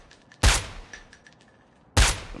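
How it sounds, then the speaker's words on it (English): Two sharp, loud gunshots about a second and a half apart from a Call of Duty Mobile Battle Royale match, each a hard crack with a brief tail, over faint background game ambience with no talk. "2 good shots on him, needed a 3rd good shot on him"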